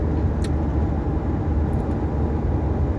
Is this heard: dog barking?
no